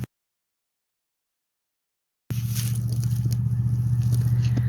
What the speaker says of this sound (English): Sorry for the random truck / ATV noises that you're going to hear in the background